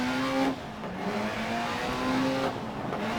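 Rally car engine in the video game Dirt Rally, loud revving with rising tonal notes that cut off and restart twice, like gear changes under hard acceleration, close and without talk.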